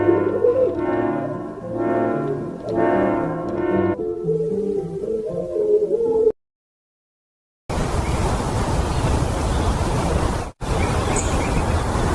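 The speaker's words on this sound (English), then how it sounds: "Brave bird." A pigeon or dove coos in soft, repeated tonal phrases, close and fairly clear, followed after a brief silence by a steady hissing wash of noise.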